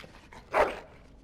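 A dog in Dragon Age: Origins lets out a single short bark or yelp, moderately loud and close, with quiet surroundings before and after.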